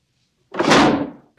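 A drawer slams shut with a single heavy wooden thunk that swells and fades over about half a second, loud and close after silence.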